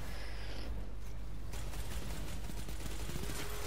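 A rapid-firing, minigun-like weapon in the video game Destiny 2, heard faintly as a dense stream of quick shots that grows busier partway through, with no talking.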